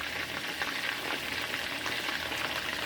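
Ground turkey meatballs frying in a pan give off a steady, close, dense sizzle and crackle that holds even and unbroken throughout, with no voices over it.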